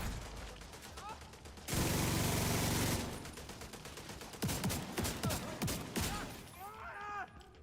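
Gunfire in The Division 2 video game, with repeated sharp shots and a loud sustained burst in the middle, mixed with game effects and talk.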